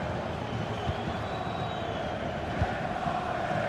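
Steady roar of a football stadium crowd in a video game match, a dense continuous murmur of cheering held at an even level with a faint whistle-like tone drifting through.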